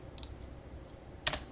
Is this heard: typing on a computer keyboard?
yes